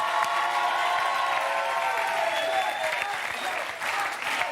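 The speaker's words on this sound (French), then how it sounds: "la standing ovation prend fin sur le plateau" A studio audience on a French TV quiz show set gives a standing ovation, with dense, steady clapping and scattered cheers that gradually thin out, while a voice speaks over it.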